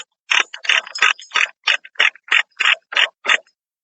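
A ratchet loosening a trailer part clicks in a steady run of about eleven quick, loud strokes, close and alone.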